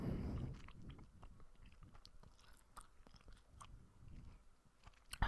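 Gum chewed with the mouth slightly open, giving a run of close, moist smacking and clicking sounds in an uneven rhythm, quiet and with no talking.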